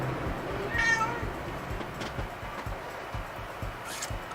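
A cat gives a short, faint meow early on and another brief cry near the end, over quiet room noise and soft rhythmic tapping from a card-weaving loom.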